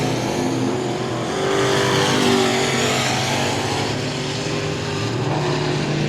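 Dirt race trucks roar around the I-37 Speedway track in a heat race, a loud, continuous engine drone with pitch rising and falling as the pack passes, no voices over it.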